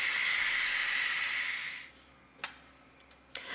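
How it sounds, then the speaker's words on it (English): Steam hisses loudly from a pressure cooker's pressure release valve, a steady close roar that fades after about two seconds, followed by a few faint clicks. "now let's release the pressure"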